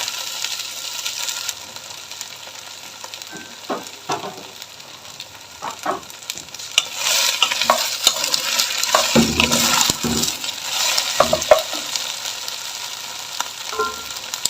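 About 300 grams of cut okra sizzles in hot oil, a steady frying hiss that swells louder midway as the pieces are stirred and shuffled in the pan, with scattered clinks and scrapes.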